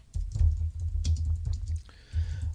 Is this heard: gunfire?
no